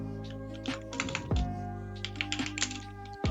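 Typing on a computer keyboard: a run of quick, irregular key clicks with a few louder taps, close and clear over a steady tonal background.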